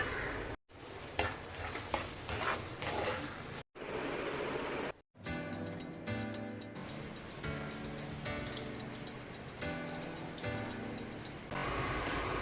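Sundakkai turkey berries cook in a covered pan for Kerala-style aviyal, a steady close sizzle and bubbling with brief stirring scrapes, continuous apart from a few short breaks.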